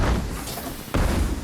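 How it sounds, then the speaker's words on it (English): Fireworks cannons firing in Disney Infinity 3.0: a muffled boom followed by a second, sharper thump a moment later, fairly loud and close. "all the fireworks happen right here, right above the fireworks cannons."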